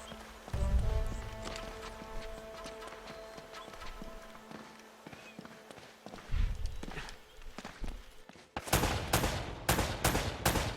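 Gunfire in the PS4 video game Uncharted 1, with game ambience and footsteps giving way to a run of sharp, loud shots fired in quick succession near the end.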